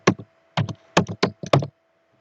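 Quick keystrokes on a computer keyboard while entering a web address during coding work, arriving in several short, close clicky bursts separated by brief pauses, with no voices.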